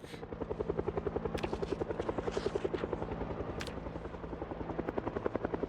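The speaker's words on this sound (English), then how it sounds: "I only hear the helicopter, don't hear zombies." A helicopter's rotor thumps steadily in the video game Project Zomboid, a fast, even rhythm, moderately loud and continuous throughout, with a few faint clicks on top.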